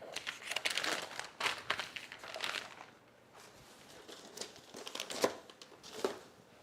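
Paper sewing pattern pieces crinkle and rustle as they are folded up by hand, in soft, irregular bursts of crumpling with brief pauses between them, fairly quiet and close.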